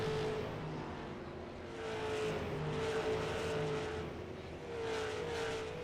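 Stock cars from a Canadian pro series circulating on an oval short track at night, their engines droning steadily at a distance. The hum swells and fades gently as packs of cars pass.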